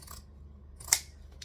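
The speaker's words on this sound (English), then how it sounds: "Again, with the zigzag scissors, so that this will sit nicely in the bottom of the bag." Zigzag pinking scissors cut through bag fabric in one crisp, quiet snip partway through, with near-silence on either side and no talking.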